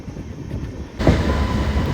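Amrit Bharat Express, a new train from Khatipura to Darbhanga, running on rails near Basti railway station, with a steady loud rumble that grows suddenly louder and busier halfway through as the rolling noise swells.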